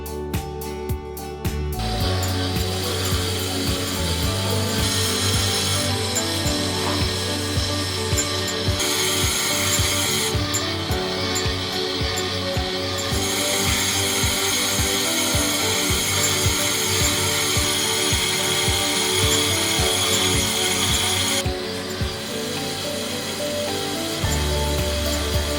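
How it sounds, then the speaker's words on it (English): An automatic diamond cutting machine faceting gold and silver jewelry beads with 360-degree rotation: continuous rapid mechanical ratcheting and clicking, loud and close, with bursts of high grinding hiss that start and stop. "diamond cutting machine could precisely tool each beads automatically using a 360-degree rotation"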